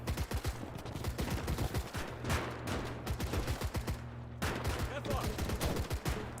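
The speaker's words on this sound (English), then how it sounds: "Keep firing, boys. Keep firing." Rapid rifle and machine-gun fire from soldiers dug into foxholes in the video game Call to Arms: Gates of Hell, dense overlapping sharp shots in a steady fusillade, moderately loud throughout.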